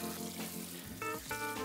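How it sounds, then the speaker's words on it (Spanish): Cold tap water pours over a ham bone being washed and turned in a kitchen sink, a loud, close, continuous splashing stream whose tone shifts as the bone is moved beneath it. "hay que lavarla con agua fría"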